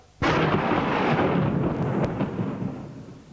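A sudden loud thunder crack rolls into a long, rumbling storm roar that slowly fades, played as a sound effect in a 1990/91 live stage performance of the Rocky Horror Show, with no voices over it.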